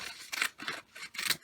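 Scissors snip through paper to cut a jagged edge, four crisp separate cuts close by with short pauses between them.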